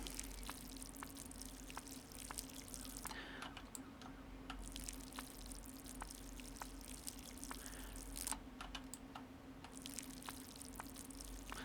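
Plants being watered in the Schedule 1 game, a hissing pour of water that starts and stops in bursts, mixed with a steady run of keyboard and mouse clicks and a low hum beneath.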